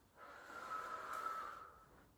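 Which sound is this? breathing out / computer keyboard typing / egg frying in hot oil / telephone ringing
breathing out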